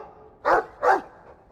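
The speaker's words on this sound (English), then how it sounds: "I like the doggy." A dog in the Dragon Age 2 video game gives two short, close barks in quick succession over a quiet background.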